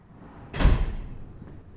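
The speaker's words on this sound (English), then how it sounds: "We have a very large bank vault door on the front because ultimately the collections are very valuable" A very large bank vault door at a seed bank's vaults swings with one heavy, muffled thud and a brief rushing sweep, followed by a faint quiet tail.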